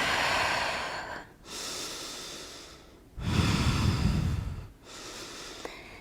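Slow, deep breathing during a relaxation exercise, with long airy inhales and exhales through the nose, close and clear, about three full breaths with short pauses between them and no talk.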